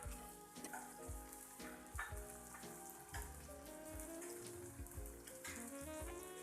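Spinach paste for Surati-style green pav bhaji sizzles and spatters in a pan with pav bhaji masala, a steady crackling fry with occasional stirring, faint and continuous, no voices.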